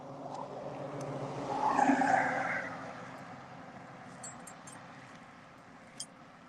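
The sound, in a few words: road traffic passing outside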